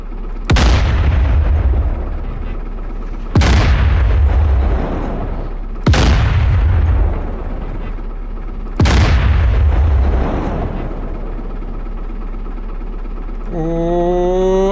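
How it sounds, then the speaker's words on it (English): Ammo dump blowing up under self-propelled artillery fire in DCS World: four heavy, loud booms spaced a few seconds apart, each with a long rumbling decay, followed by a rising tonal whine at the end. "Second ammo dump destroyed"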